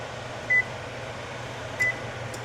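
An oven control panel beeps twice while being set to preheat to 350, two short, clean electronic tones about a second apart over a steady low room hum, with no voices.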